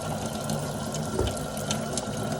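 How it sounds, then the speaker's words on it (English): Hot water running from a tap to rinse an abrasion, a steady close hiss of flowing water that stays even throughout. "run it under some hot water"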